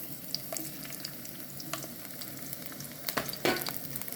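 Thin slices of ginger sizzle and crackle in hot oil in a pan, a steady frying hiss with scattered pops and occasional stirring scrapes, close and alone.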